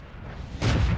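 A tank cannon shot in World of Tanks during a one-on-one fight, a heavy sudden boom that hits at once and rolls on loud and full to the end of the short clip.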